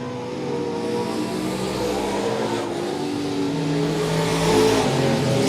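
Race car engines roar through a heat race at Monett Motor Speedway, a steady loud drone of several cars with shifting engine pitches that grows louder near the end as cars pass close.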